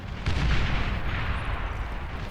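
A loud, sustained explosion from a bombing run in Beyond All Reason, a dense rumbling roar lasting a couple of seconds with no voices.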